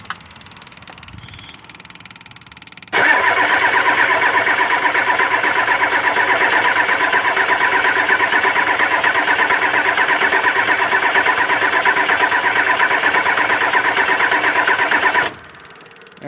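A Ford 7.3 IDI diesel, sprayed with WD40 to help it start, sits quiet until a sudden loud, steady mechanical roar kicks in and runs unbroken for about twelve seconds before abruptly stopping.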